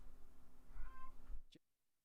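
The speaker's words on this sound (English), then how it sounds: "Sorry, my cats are making noise." Pet cats meowing in a home, a drawn-out, wavering cry at close range with a short sharp mew near the end before the room falls quiet.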